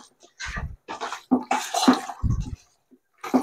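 Mutton pieces being mixed by hand with papaya paste for Hyderabadi dum biryani, giving wet squelching and slapping bursts in an uneven rhythm, close and moderately loud.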